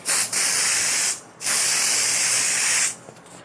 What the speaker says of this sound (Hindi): हेयर स्प्रे करना है